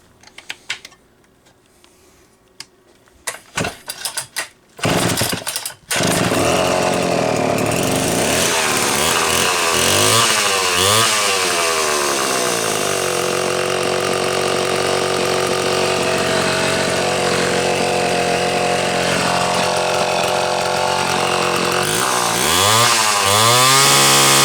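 A Homelite C-72 chainsaw is heard as a few clattering pull-start attempts, then it fires up and runs with a loud, steady, buzzing engine roar that rises and falls in pitch several times as the throttle is revved.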